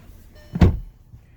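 A single solid thunk as the door of a 2020 VW Passat 2.0T SE swings shut while someone climbs in, one short close impact standing alone against quiet cabin hush.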